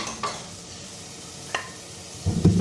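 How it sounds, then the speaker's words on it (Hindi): Spice masala for a red bean curry cooking in a pan, a faint low sizzle with a few brief scraping stirs, then a louder burst of frying near the end. "ये मसाला थोड़ी देर पकेगा।"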